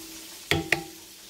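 Two quick, crisp scrapes of a spoon stirring seasoning powder in a bowl, close and distinct with quiet between them.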